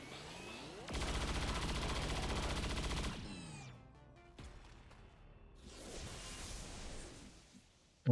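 Rapid gunfire from XCOM Long War: a dense, sustained burst of shots for about two seconds, followed by scattered sharper reports and a rushing, debris-like roar near the end.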